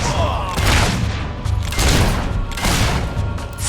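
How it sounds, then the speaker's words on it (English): Rapid bursts of gunfire in the video game Fable 3, loud and continuous with heavy booming thumps, under game music and voices. "The sucker's shooting at us!"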